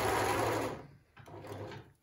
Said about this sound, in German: Also die Nähmaschine läuft richtig gut.